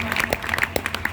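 An audience applauds at a gathering, steady clapping from a crowd mixed with voices.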